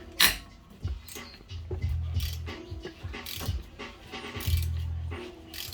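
A wrench ratchets and clanks against a strut bolt on a Dodge Grand Caravan 3.6L front strut until it breaks free, with repeated loud metallic clicks and grinding close by in a garage.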